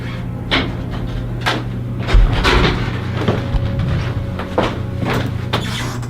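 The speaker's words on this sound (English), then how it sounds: "You mean the door you just slammed?" A door slammed somewhere in a building during a police call, heard as several sharp knocks and bangs spread across a low hum, one heavier thud standing out among lighter impacts.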